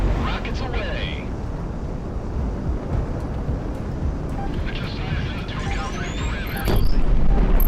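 Rockets fire and explode in the combat flight game Project Wingman, a dense rumbling roar of engines and blasts with whooshing streaks and a louder burst near the end, while a voice talks over it.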